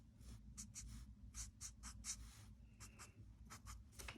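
Pen scratching on paper while writing out a calculus derivation, a steady run of short strokes and taps at close range, quiet, with no voices.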